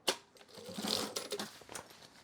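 A sewing machine stitches a basting seam along a zipper garage on a drop liner duffle bag, a short rapid run of needle clatter in a quiet room.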